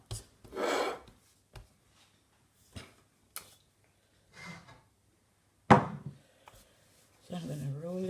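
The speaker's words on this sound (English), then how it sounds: "So I'm going to roll this out to the size of my pan, my baking dish that I'm using." Rolling pin working floured pastry dough for Guyanese pine slice on a countertop, with short scraping rolls and soft knocks separated by pauses; a voice starts speaking near the end.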